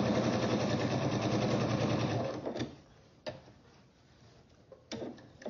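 A sewing machine stitches a basket lining with red thread in a fast, steady mechanical run for about two seconds, then stops, followed by a few soft clicks and handling knocks.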